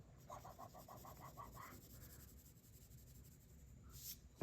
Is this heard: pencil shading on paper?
yes